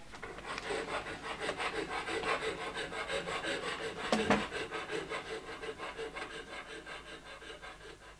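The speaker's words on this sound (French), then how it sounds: "tu déplies la lime de ton couteau de poche et tu uses les barreaux" A pocketknife file scrapes back and forth across iron window bars in a steady, rhythmic rasp that lasts several seconds, with one harsher grinding stroke partway through. The setting is a 1960s French radio drama, and no voices are heard.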